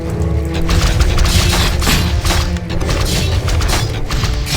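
Loud, dense battle din from a Warcraft 3 match, fiery blasts and crashes piling up into a continuous roar of booms and crackles with no talking.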